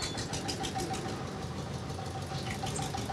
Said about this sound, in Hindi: ट्रैक्टर गुजर जाने देते हैं